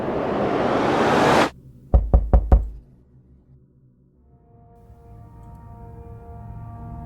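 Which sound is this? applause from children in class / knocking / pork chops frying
knocking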